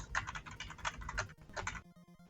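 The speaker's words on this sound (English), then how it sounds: "See if I can still type." Keys clatter on a computer keyboard in quick irregular bursts, close and fairly quiet, with a short pause before a final faint humming tone.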